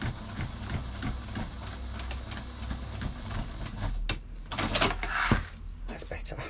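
A sewing machine, fitted with a presser foot suited to the job, stitches through many stacked fabric layers for a tablet stand, a steady mechanical run with a few louder bursts near the end.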